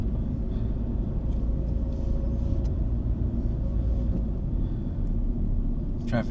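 Steady, loud roar of freeway traffic passing, a dense continuous rumble of cars with no break, heard up close.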